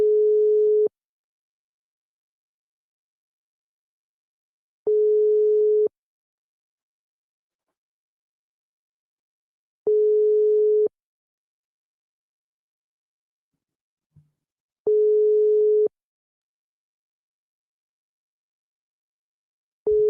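Telephone tone heard on a phone-in line during a radio talk show: a low, steady tone of about one second sounds five times at even intervals of about five seconds, with silence between the tones and no voices.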